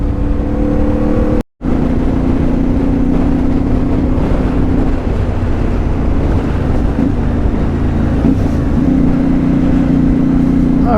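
A CFMoto 450MT motorcycle pulls away on a ride, its engine droning steadily with wind buffeting the microphone throughout, after a brief dropout near the start.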